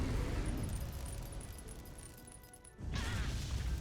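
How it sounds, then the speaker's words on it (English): Smashing melee attacks land in a Monster Hunter Stories 2 battle, a dense run of impacts and crunches over a continuous game score. A short drop at the end gives way to a louder burst. "And we're just smashing away at him."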